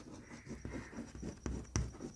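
Pen scratching across paper as words are written out by hand, a soft close stream of strokes with a few sharper taps, faint and continuous without voices.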